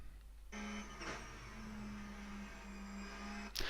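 Ruf C-Spec engine at full throttle in a racing game on the Road Atlanta short course: a steady, droning high-rev tone that holds flat for about three seconds, starting and cutting off abruptly, with no talk.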